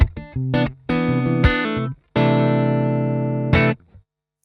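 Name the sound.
electric guitar clean tone, Mooer E7 synth pedal switched off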